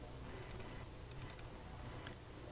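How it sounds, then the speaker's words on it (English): A computer mouse double-clicks in FileMaker, short paired clicks close and distinct on a quiet background, repeating a few times with small gaps. "that's what I'm doing is just double clicking them"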